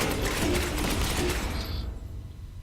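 Gunfire in Space Hulk Ascension, a rapid dense burst of rattling automatic shots that cuts off after about two seconds, leaving a quieter mechanical tail.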